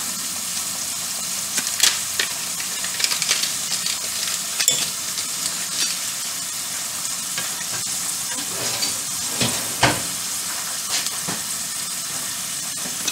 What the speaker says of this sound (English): We're going to get some of that butter melted in there.